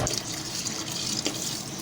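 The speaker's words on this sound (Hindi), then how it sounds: "उसके बाद 3-4 पानी से हम जल्दी इसी तरह पानी में भिगो के इसे धोएंगे" Running tap water splashing steadily into a sink as fenugreek leaves are soaked and washed, a continuous close, moderately quiet gush with no talking.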